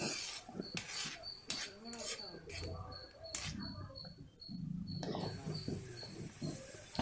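Pasta and palak paste are stirred in a pan with repeated scraping clinks of a utensil against metal in an irregular rhythm, close up, with a faint high electronic beep recurring and talking in the background.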